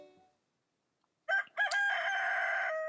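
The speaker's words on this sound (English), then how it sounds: "there goes the rooster" Rooster crowing in the farming video game Stardew Valley, a single clear synthesized cock-a-doodle-doo that starts with two short calls and ends in a long sustained note, heard alone after near silence.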